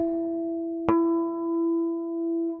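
A sustained ringing guitar harmonic at the fifth fret hums steadily, then a second bell-like harmonic at the seventh fret is plucked over it, both tones sustaining softly together.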